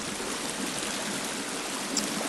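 Water flows through a cave in the video game The Forest, a steady, broad rushing hiss that stays even and unbroken throughout.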